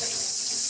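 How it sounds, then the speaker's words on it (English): Tap water runs in a steady, hissing stream while rice is rinsed beneath it, close and unbroken for a brief moment. "I just give it a good rinse, and then once I start seeing that the water's running clear through"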